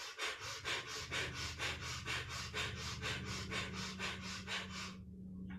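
Rapid rhythmic breath of fire during a kundalini yoga nabhi kriya, steady forceful pulses through the nose, close and fairly loud, continuing for several seconds before stopping abruptly.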